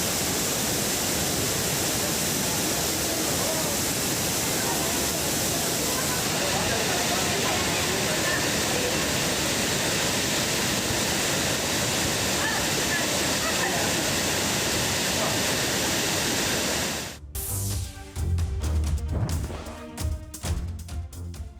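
The Cauvery river surges past in a dense, roaring rush of water that fills most of the stretch before it cuts away abruptly to other sounds near the end.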